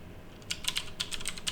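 Computer keyboard being typed on during an Ubuntu 22.04 setup: about ten quick, light key taps in an uneven burst, faint and near, with no talk over them.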